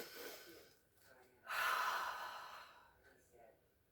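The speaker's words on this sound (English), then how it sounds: "let's take a deep breath together" A single slow, deep breath is drawn in and released during a calm relaxation exercise, soft and close, with a faint sigh at the end.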